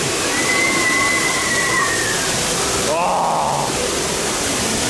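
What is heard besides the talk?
water rushing down the drop of the Chiapas water ride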